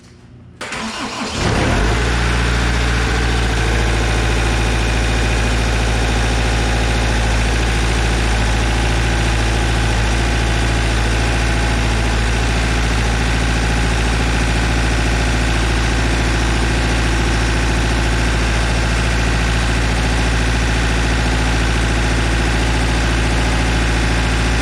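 A car engine cranks briefly and catches, then settles into a loud, steady, close idle with a deep, even rumble that holds unchanged to the end.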